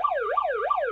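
Siren from a Chicago Med hospital drama, a clean wailing tone sweeping up and down in quick repeated cycles, loud and alone with no talk.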